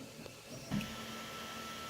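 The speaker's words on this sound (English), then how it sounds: "it goes on to the FDM printer, which begins laying them down a slice at a time" An Ultimaker S5 FDM 3D printer lays down filament with a faint, steady whir, broken by a soft click and a brief bump partway through, in a quiet room.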